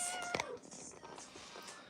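A pet cat meows near the microphone, one drawn-out rising-then-falling call followed by softer fainter murmurs, with a quiet background.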